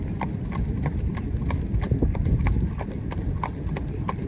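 A veteran horse trots, driven in harness, its hooves clip-clopping in a steady quick rhythm of close, distinct beats over a low rumble of movement.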